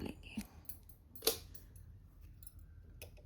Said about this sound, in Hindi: एक चेन बनाएंगे और धागा काट के हटा लेंगे